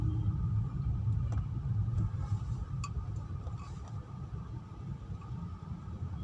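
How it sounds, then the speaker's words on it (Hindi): A car rolling to a stop in traffic during a driving lesson, with a steady low engine and road rumble throughout and a few faint clicks on top, heard close from inside the vehicle. "बहुत सुंदर कार रोकी ऐसे"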